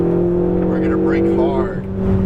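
A Ferrari 488 GTB on a racetrack drones loud and close as it brakes hard and downshifts, the engine note dipping and rising while a voice talks over it.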